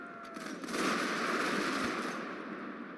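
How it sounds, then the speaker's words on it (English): Cannons firing in a 19th-century Total War Steam and Steel mod battle during an amphibious attack, a dense, sustained roar of overlapping blasts and gunfire that swells after the first half-second and rumbles on without pause. "So what I'm going to do is to take my cannons and start shooting here."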